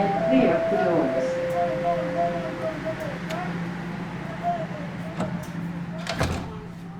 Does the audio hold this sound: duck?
no